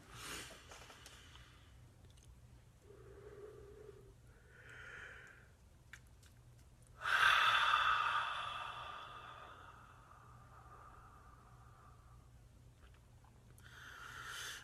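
Slow guided breathing exercise, with deep audible inhales and long sighing exhales spaced several seconds apart, close and soft, one fuller breath out swelling louder midway.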